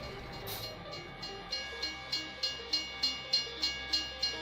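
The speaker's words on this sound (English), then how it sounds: "let's go ahead and pull this train out of here" A train rolls along the track in a farming simulator game, its wheels clacking in a steady, evenly spaced rhythm that speeds up slightly, with a brief high squeal near the start and a low rumble beneath.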